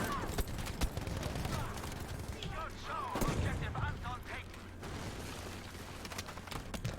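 Gunfire crackles in the video game Battlefield V, with bursts of shots and distant booms mixed under a player's voice talking throughout.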